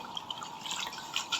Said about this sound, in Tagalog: Hugasan din natin itong mabuti mga ka-vibes kasi may mga buhangin-buhangin itong dahon ng kamote natin.